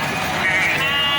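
A sheep bleats at a livestock market, a single sustained wavering cry close and loud over background crowd noise.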